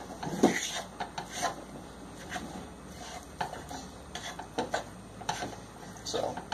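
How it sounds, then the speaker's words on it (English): Cream cheese mushroom stuffing being stirred together in a pan, with soft scraping, rubbing and occasional utensil clinks against the pan in an uneven rhythm, no talking. "all you're going to do is mix everything together in the pan"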